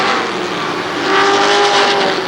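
Race cars roar down the front straightaway at Shadybowl Speedway, a loud, sustained mix of several engines at speed that swells as the pack passes near.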